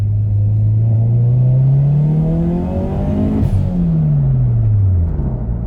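A turbocharged Subaru BRZ engine rises in pitch after a quick downshift. It revs loud and close, drops sharply at a gear change, then climbs again with a steady rumbling drone.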